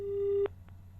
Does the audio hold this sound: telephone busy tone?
yes